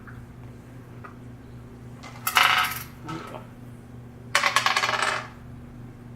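Dice for a tabletop role-playing game, rolled for hit points, clatter across a hard surface in two separate bursts, each a quick rattle that settles, heard close over a quiet background hum; a voice speaks a word briefly.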